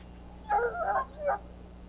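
A dog in Dragon Age: Origins gives a short burst of whining barks and whimpers, two close yelping cries over a low steady hum.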